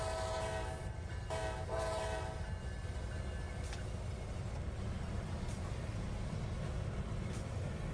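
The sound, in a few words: train in a Roblox video game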